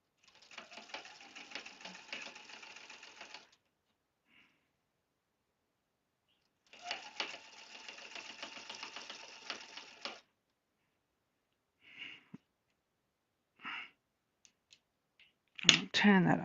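A sewing machine stitching a seam on a log cabin table runner, two steady rapid runs of mechanical whirring, each about three seconds long, separated by silence, then a few soft clicks and a brief voice at the end.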